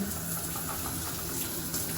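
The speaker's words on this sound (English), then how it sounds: "you can also get the water from the rainfall shower head" Water pours steadily from a rainfall shower head over a bathtub in a resort hotel room, making a continuous close hiss and splash with no break.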